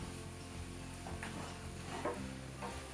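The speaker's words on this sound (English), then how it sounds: "In goes our sauce." Sauce going into a hot pan of crispy, caramelised vegetables, giving a faint, steady sizzle with a few soft splashes and clinks, no voices.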